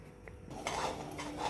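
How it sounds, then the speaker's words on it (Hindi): Semolina being stirred in a pan for banana halwa, brief scraping of a spoon against metal, close and quiet with no talk. "सूजी हिलाते रहेंगे हम लोग, लगाते रहेंगे क्योंकि चलाते रहेंगे"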